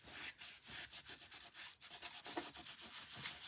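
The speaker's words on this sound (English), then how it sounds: "rub where your white embossing powder is" A tissue rubs briskly over white embossing powder on a craft surface, giving soft, fast, rhythmic scratchy strokes, close up and fairly quiet, with no voices.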